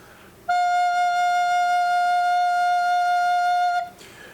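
A single sustained recorder note F, pure and steady, blown gently and held for about three seconds before stopping.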